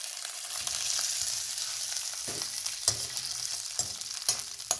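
Slit green chilies, stems left on, sizzle in hot oil and butter for a vegetable pulao, a steady close hiss broken by several sharp stirring clacks toward the end.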